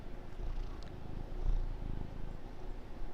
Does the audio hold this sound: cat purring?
yes